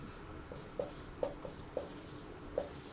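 Faint marker or chalk strokes on a board during a grade 3 math lesson on divisibility: a few short, soft scratches and taps in quick succession over quiet room tone.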